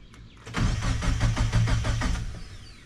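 A 1999 Mazda Miata engine cranks and catches after a push start, a rapid rhythmic churning that settles into a running rumble for about two seconds before fading, close and loud.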